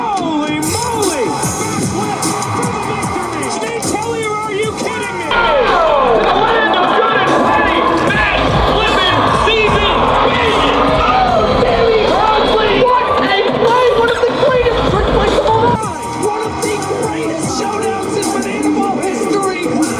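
A large stadium crowd at a Savannah Bananas baseball game yells and cheers, a loud continuous roar that swells midway and stays dense throughout.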